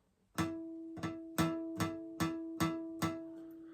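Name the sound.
guitar harmonic at fifth fret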